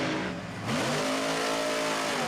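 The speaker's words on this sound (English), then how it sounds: "I just had to stop talking there for a second to hear the raw power that old Chevrolet has" An old Chevrolet monster truck engine revs hard at a harvest festival show, its loud, rough roar climbing in pitch and holding steady at high revs.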